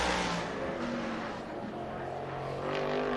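A winged sprint car roars past on the Las Vegas Bullring oval during qualifying. The engine note is loud and sustained, with a rising and falling whine as the car sweeps by.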